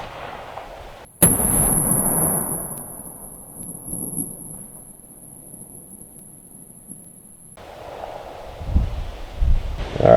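A 6.5 Creedmoor rifle fires a single sharp, loud shot into a wood block, followed by a long high ringing tone from the ear protection and quiet outdoor rustle until a few soft shuffling sounds at the end.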